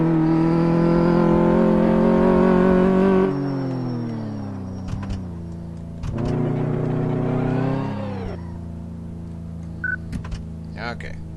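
Car engine in the driving mode of the Car Mechanic Simulator 2014 game, a loud steady drone that rises and falls as the car revs, backs up and turns, with someone talking over it.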